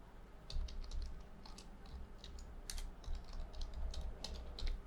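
A computer keyboard clicked as an entry is typed, a rapid, uneven run of close, light keystrokes continuing steadily over a low room hum.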